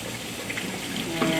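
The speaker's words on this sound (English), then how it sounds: "So now we're going to wash our berries." Berries rinsed under a running kitchen tap, a steady close stream of water splashing into the sink with a brief louder gush near the end.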